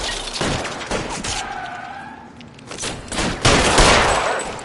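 Dense gunfire rattles in continuous overlapping bursts, loud and chaotic, with a siren-like tone wavering faintly beneath the barrage.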